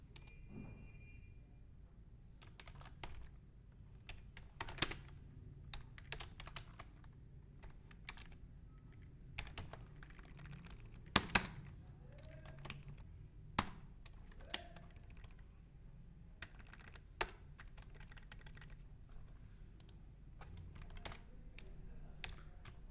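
Keys on a computer keyboard click in irregular bursts while text is entered in MS Word, with scattered louder keystrokes and short pauses in a quiet room.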